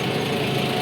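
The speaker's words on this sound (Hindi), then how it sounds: "हम लोग ट्रैक्टर पे बैठे हैं, ट्रैक्टर धाई धाई कर रहा।" A tractor engine drones steadily and close by while people ride on the tractor. The low, even rumble holds without a break through the short stretch.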